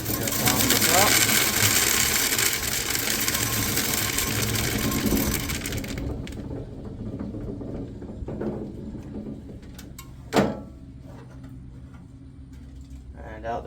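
A hand-cranked corn sheller stripping kernels from corn cobs, a steady rattling mechanical grind that cuts off around six seconds, followed by quieter clatter, a single thump and people talking.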